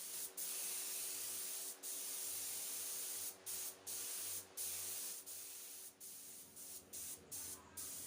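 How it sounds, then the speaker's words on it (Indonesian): Silver paint spraying from a spray gun onto a panel in a custom paint shop, a loud steady hiss broken by many short pauses as the trigger is released, with no talking. "kita semprot menggunakan warna silver terlebih dahulu"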